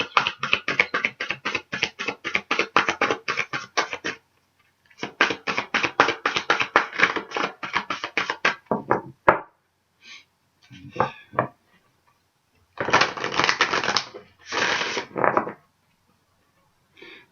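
Oracle cards are shuffled by hand for a card reading: long runs of rapid, crisp riffling clicks, close and fairly loud, pausing briefly, then shorter bursts of card handling with gaps of quiet between them.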